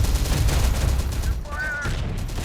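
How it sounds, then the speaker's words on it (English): Sustained gunfire fills a battle in the real-time tactics PC game Terminator Dark Fate - Defiance, with dense, continuous volleys of shots that barely let up and a brief voiced sound cutting through midway. "We're taking fire."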